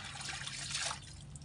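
Water splashes and trickles from a hand pump at an outdoor washing spot where clothes are laundered, a steady close gush that swells briefly then eases, with no voices.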